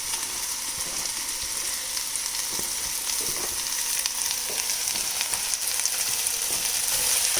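Prawn biryani with chopped mint and coriander fries in a hot pan, giving a steady close sizzle with occasional stirring scrapes throughout.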